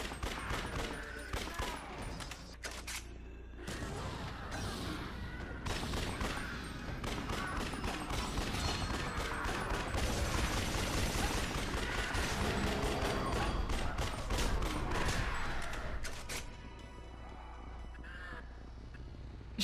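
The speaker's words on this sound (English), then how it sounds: "Man's decided he needs to have some fun by shooting zombies" Gunfire in Yakuza: Dead Souls as zombies are shot, dense rapid bursts of shots running almost continuously for about twenty seconds, loud and cluttered with game effects, with no talking.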